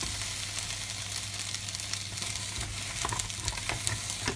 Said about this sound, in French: mettre les haricots verts mouillés directement dans le wok, sans mettre l'huile. Donc j'ai mis le feu pour évaporer l'eau